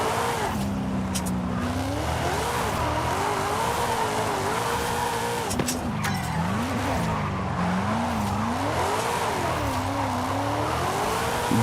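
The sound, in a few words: car drifting in Forza Horizon 5 video game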